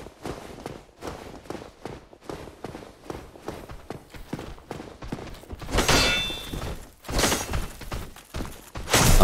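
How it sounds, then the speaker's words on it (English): Footsteps in Dark Souls Remastered come up from behind as a steady series of thuds, followed by louder crashing impacts and clangs near the end of the clip. "I hear footsteps behind me."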